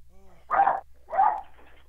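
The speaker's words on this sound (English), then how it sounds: "I think I have to put my dogs out, though, because they keep trying to bark at the garage for some reason or other" Dogs barking at a garage, two distinct barks spaced about half a second apart, moderately loud and fairly close in a quiet room.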